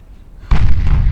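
A ship blowing apart from a shell hit under its B turret in a naval warfare video game: a single sudden loud boom after near silence, followed by a heavy rolling roar.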